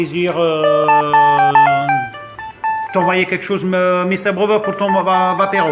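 A phone ringtone plays a bright, stepped electronic melody in repeating phrases, fairly loud, with someone speaking French over it at the start and again after the tune.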